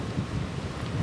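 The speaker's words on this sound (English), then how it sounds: "What we are seeing here is that driving rain, still those strong winds." Hurricane Florence lashes the Wrightsville Beach coast near Wilmington, a brief, loud, continuous roar of driving rain and strong wind buffeting the microphone.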